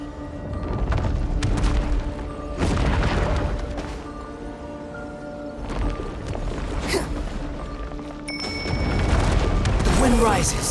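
A breakable wall is smashed in Genshin Impact. Repeated heavy impacts and crumbling bursts arrive in separate waves, with a chiming effect near the end.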